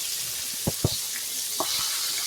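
Largemouth bass pieces, including a bone-in tail, frying in hot oil: a steady close sizzle with a few sharper pops and bubbling bursts, no talking.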